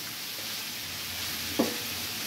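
Garlic and onion sautéing in a pan, a steady close sizzle hissing throughout, broken once by a brief clink of a utensil stirring.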